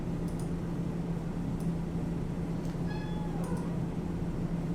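A cat lets out a short meow partway through, a faint, slightly rising call over a steady low hum of room noise.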